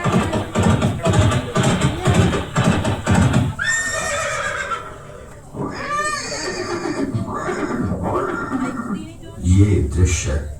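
Horse neighing sound effect in a Maharana Pratap museum display of the horse Chetak: a loud whinny rises after a busy stretch, followed by further whinnies and snorts, with voices and background commotion throughout.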